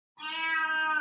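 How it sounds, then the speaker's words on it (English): A single drawn-out meow from a cat, low and steady, sounding close and clear, breaking a brief silence and holding for nearly a second with no one talking. "I hear the cat."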